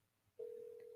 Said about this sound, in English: Do you hear that ringing sound?